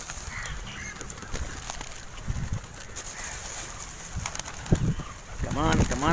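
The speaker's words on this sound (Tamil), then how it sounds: "அழகான இந்த ஏரிக்கரையில் பாருங்கள் புறாக்கள்." Pigeons gather at a lakeshore as they are fed roasted gram, with cooing, fluttering wings and scattered bird calls over outdoor ambience, and people talking nearby.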